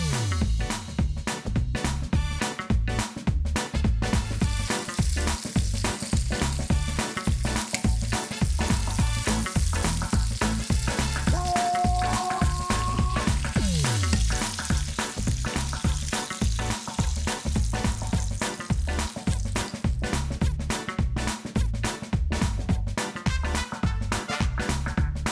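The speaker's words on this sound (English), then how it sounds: "we're just going to cook them for about 1 minute, turn them 1 minute again" Sausages and bacon fry in a dry pan with no oil, a steady loud sizzle underlaid by repeated low knocks and scrapes, with a brief tonal whine partway through.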